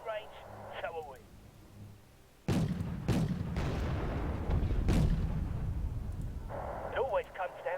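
Heavy artillery and gunfire in the Cold War strategy game Wargame Red Dragon, 1950s-era battle: several loud booming blasts in quick succession with rumbling echoes, after a brief spoken radio order before and after.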